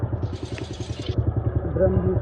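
A TVS Sport BS3 motorcycle idles at a local service shop, its single-cylinder engine putting out a steady, close, rhythmic thumping throb that carries on without a break.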